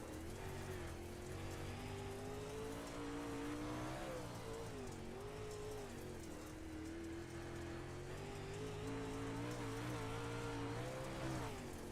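Onboard engine roar from a dirt Pro Late Model race car circling a worn-out speedway at Kokomo, a loud continuous drone that rises and falls with throttle through the turns, with gritty dirt noise beneath and no voices.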